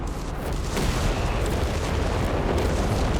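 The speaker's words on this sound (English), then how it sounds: "Zeroing artillery." A zeroing artillery barrage pounds the ground in a large 4v4 Company of Heroes 3 battle on the Sousse map, a dense continuous roar of overlapping booms and rumbling impacts that holds loud and steady throughout, with no pause between shells.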